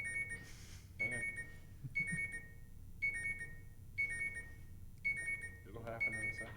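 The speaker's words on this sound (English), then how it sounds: "it's an alarm going off, and I'm gonna make it stop" An electronic alarm clock beeps in steady, evenly spaced bursts about once per second, moderately close, with a person talking quietly underneath and over it.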